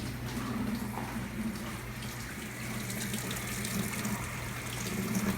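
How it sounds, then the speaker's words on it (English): Running water pours in a steady, full rush from a tap onto a freshly made knife blade being rinsed. The water flows loud and close without a break, with no talking. "Let's take this and wash it off real good"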